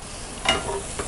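Capsicum stir-fried with vegetables in a pan for vegetable fried rice, a short sizzle with one brief louder scrape of stirring near the middle.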